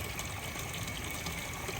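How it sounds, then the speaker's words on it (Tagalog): Water pours steadily into a cup at a fresh-water spot in Switzerland, a continuous close gushing fill with no break. "And now you fill up with water."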